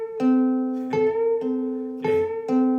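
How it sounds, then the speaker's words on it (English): A ukulele's C string is caught by a fingernail during vibrato, giving soft plucked notes with small extra picks and clicks at each downstroke, five or so quiet attacks over a sustained tone, close and alone. "That's my nail going past the C string, and when I come down, my nail's catching the string and I'm picking it"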